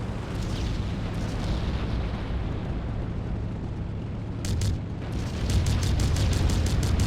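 Video game explosion blasting a zeppelin free, a long rumbling roar with a sharper burst partway through and steady loud crackling bursts toward the end.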